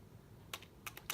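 A few separate computer keyboard keys are pressed one at a time, the crisp clicks close and distinct, with a pause before a quick pair near the end.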